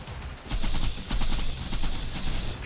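Dense automatic gunfire from the video game Borderlands 2, loud and continuous bursts of rapid shots with booming low thumps, sustained through the whole moment with no break.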